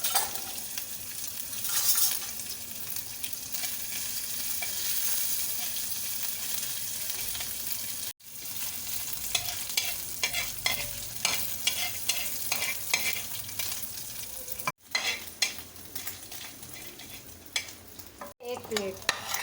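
Ginger garlic paste sizzles in a spoonful of hot oil with cumin seeds. A steady, dense frying hiss runs throughout, with a spoon repeatedly stirring and scraping the pan.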